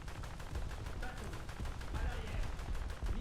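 Strafing gunfire in War Thunder: dense, continuous rapid-fire bursts, loud and close, under a person talking.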